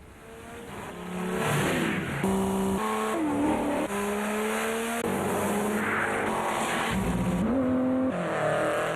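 Peugeot diesel racing car fitted with HDI FAP particulate-filter technology, engine revving hard and shifting through gears with rising pitch sweeps, loud and close, tires briefly squealing.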